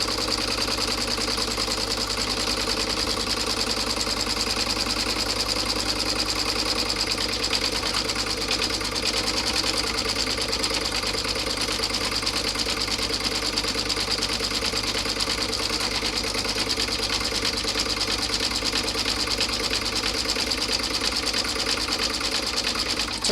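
A sewing machine runs steadily at high speed, satin-stitching the pocket of a passport and card wallet, a continuous close buzzing whir with no pauses.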